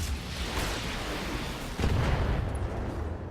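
Heavy mech weapons fire in the Battletech video game: dense, rumbling bursts of booming shots layered over a steady roar, swelling into a louder blast partway through, with no talking.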